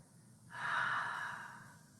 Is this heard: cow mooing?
no